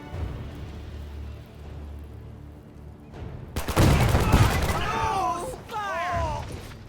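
Rapid bursts of World War II gunfire and explosions in the strategy game Men of War 2 erupt after a quieter stretch of rumbling battle, with voices shouting over the din.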